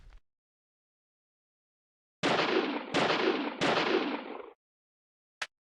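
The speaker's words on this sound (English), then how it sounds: "What if I shoot this chain?" Three loud, sharp gunshots fired at a chain in the video game Deadly Premonition, evenly spaced about half a second apart with ringing decays, followed by a brief metallic click.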